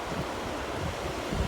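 Fast-flowing creek water rushing at a hiking trail crossing in Kananaskis, a steady dense wash of turbulent water close by, mixed with some wind buffeting on the microphone.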